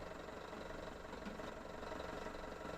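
A tractor engine idles in the Farming Simulator 17 video game, a low, steady mechanical rumble with a faint knocking pulse, quiet and continuous with no talking.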